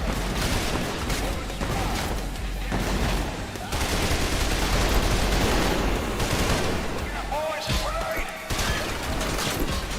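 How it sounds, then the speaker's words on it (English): Revolver gunfire rings out in the first-person shooter Trepang 2, with dense bursts of loud shots and impacts in close combat, nearly continuous and broken by a few brief pauses. "Get in close with revolvers, just gun them down until"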